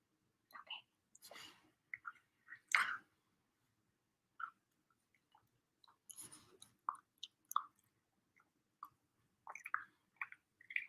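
Chewing of sweet potato snacks, close and soft, with irregular moist bites and crunches spaced apart and a few whispery breaths between them.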